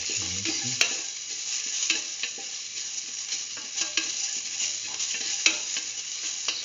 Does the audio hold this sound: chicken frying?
yes